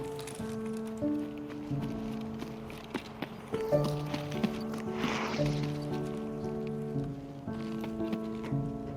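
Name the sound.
footsteps in video game Escape from Tarkov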